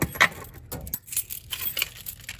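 Keys jangling during a System Sensor MASS ADA fire alarm test: a few quick metallic clinks and rattles, close to the recorder, over steady background noise.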